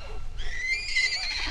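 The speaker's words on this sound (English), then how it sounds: "Oh, did you hear that? That's a miniature horse." A miniature horse gives a short whinny, fairly faint and a little distant, over light background rumble on a farm.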